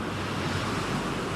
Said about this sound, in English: Monster waves.